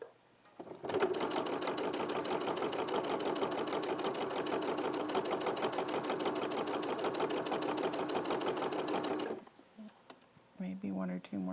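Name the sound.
sewing stitches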